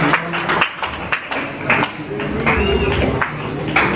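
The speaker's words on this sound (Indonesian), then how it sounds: "kita berikan aplaus untuk regu B" Audience clapping for a team at a school scientific debate, a burst of applause of moderate loudness lasting through, with some voices mixed in.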